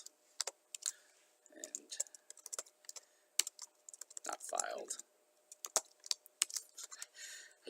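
Close, quick typing on a computer keyboard comes in irregular bursts of sharp key clicks, with someone speaking softly over part of it.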